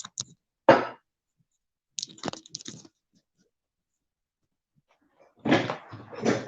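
Door clicks and knocks in a quiet room as someone comes through, a few short sharp bursts separated by silence, with a louder rustling clatter at the end.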